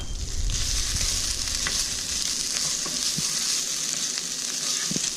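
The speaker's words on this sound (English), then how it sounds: "So I'm going to add in some garlic next." Pressed garlic, four or five cloves, fries in a pan for a backpacking chili mac, giving a close, steady, dense sizzle with occasional small crackles and pops and no talking.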